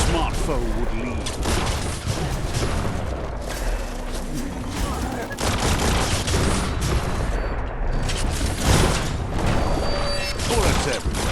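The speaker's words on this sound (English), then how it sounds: "Bullets everywhere." Dense gunfire and explosions fill a firefight in the video game Biomutant, loud continuous bursts and booms that stay thick throughout, with a voice talking over them.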